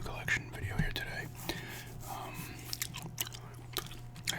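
Chewing gum is worked close to the microphone with soft, moist smacking and clicking mouth sounds, quiet and irregular over a low room hum.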